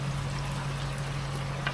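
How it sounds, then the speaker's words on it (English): Water from a reverse osmosis unit's waste pipe pours steadily into a garden pond, a continuous splashing trickle over a low hum, close by and with no one talking. "So now it's on, that's the water going into the pond"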